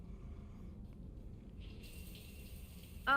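Shower water runs in the Mass Effect video game as a soft, steady hiss. A brighter tonal layer comes in partway through, and there is a brief louder sound right at the end.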